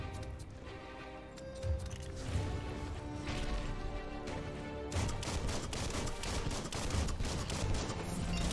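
In the video game Biomutant, a gun fires in busy bursts of sharp cracks and impacts over a dense backdrop of game music and effects, with no voice speaking.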